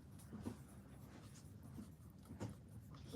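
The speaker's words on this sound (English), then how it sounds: "I'll write it down" A pen scratches across paper in short, soft strokes at close range, faint and irregular, in a quiet room with no talking.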